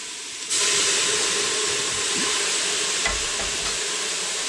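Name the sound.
cooking wine deglazing hot pan, steam hissing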